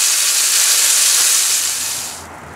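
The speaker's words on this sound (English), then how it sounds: "Just seared the lamb shoulder 4 minutes on one side. Now we're doing 4 minutes on the other side." Lamb shoulder searing in a hot pan gives off a loud, steady sizzling hiss that holds strong, then eases and fades slightly near the end, with no talking.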